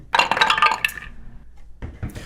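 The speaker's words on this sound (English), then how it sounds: "Dump the rest in. Oh, I love dumping them all in there." A handful of dice tumble into a wooden Wyrmwood dice tower, a bright clattering cascade of clicks and knocks lasting about a second, close and loud, followed by a brief softer rattle as the last pieces settle.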